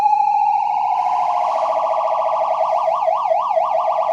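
A Hordijk modular synthesizer sounds a sustained triangle-wave tone that glides upward, then wobbles in a quickening, irregular warble as rungler modulation takes hold. It is loud and alone, with no voices.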